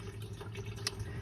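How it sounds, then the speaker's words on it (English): Coolant drains from a Toyota Yaris radiator as a quiet, close trickle and patter of liquid, with a brief sharper splash partway through. "right now I'm not flushing, I'm draining the coolant"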